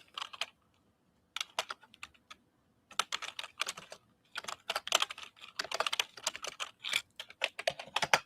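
Typing on a computer keyboard into a chat window, with short bursts of close, crisp key clicks separated by pauses, then longer fast runs of keystrokes toward the end. No voices.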